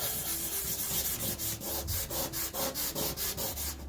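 Blue crayons rubbed up and down on paper, a close, steady scratchy rasp in quick regular strokes, roughly four per second, with no talking.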